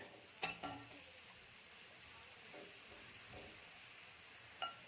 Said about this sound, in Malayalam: അപ്പുറത്തെ സൈഡും കൂടെ ഒന്ന് ഫ്രൈ ആവട്ടെ.